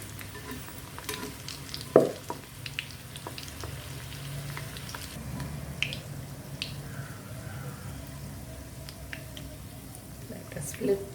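Chicken keema karanji frying in a kadai, three at a time, with a steady low sizzle of hot oil and a few soft clinks and stirring sounds, moderately close and fairly quiet throughout.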